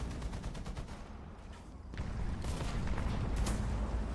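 Tank machine gun fire in a war video game, a rapid stream of bursts that thickens into sustained, rumbling gunfire with sharp cracks scattered over it, moderately loud and with no talking.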